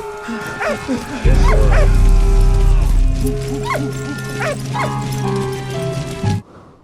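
Several sharp dog barks and yips ring out in a World War I video game scene, with whimpers in between, over a loud, low, rumbling game soundtrack with battle noise.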